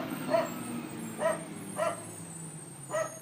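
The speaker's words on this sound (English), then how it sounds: "Waiting for the garbage truck to go by, and I'm waiting for my dog to quit barking." A garbage truck rumbles past with a low steady drone, while a dog barks four times at roughly even intervals, each bark short and mid-distance over the engine noise.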